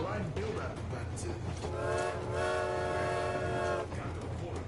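A train in Metro Exodus rumbles along and sounds a long, loud chord-like horn blast lasting a couple of seconds, set over a steady rolling clatter with some talking nearby.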